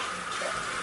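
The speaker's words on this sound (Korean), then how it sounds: "저 물소리가 들리죠?" Running water makes a brief, steady hiss that resembles a flowing tap, at a fairly low level with no talking.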